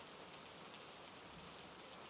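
Steady, soft rain falling on a surface, an even wash of fine drops that stays constant and fairly faint throughout, with no voices or other sounds.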